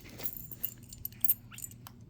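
A set of Kwikset deadbolt keys jingles faintly as a locksmith handles them, giving scattered small metallic clinks and taps close by, with no talking over them.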